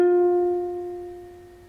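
A single ukulele note F plucked at the first fret of the E string rings clearly alone, a clean tone with bright overtones that slowly decays over under two seconds.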